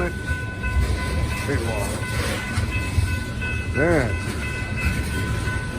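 A train rolling past, with a continuous rumbling roar throughout and a brief horn-like tone partway through, under occasional speech.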